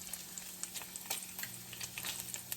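Bacon crisping in a pan while cooking dumpling filling gives a steady, faint crackle with scattered small pops, with no talk over it.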